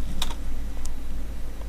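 A few quick keystrokes on a computer keyboard typing a command into the Windows Run box, light clicks set over a constant low hum.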